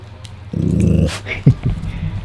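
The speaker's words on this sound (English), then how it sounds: "Blue likes to growl." Blue, a pet dog, gives a low, rumbling growl for about half a second, close and loud, followed by a brief snort and a few softer whimpering sounds.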